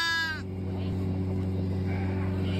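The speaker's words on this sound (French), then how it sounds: "C'est une brebis qui était dans le parc de l'Arcotte." A tiny lost lamb found in a park gives one short quavering bleat, close and clear, then only a low steady hum and faint background murmur follow.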